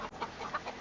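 Young silkie chickens cluck softly in a short burst of several quick, faint peeps and clucks close by.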